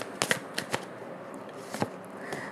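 Tarot cards are shuffled close up, a few quick soft riffles and flicks spaced across a quiet room with faint background noise.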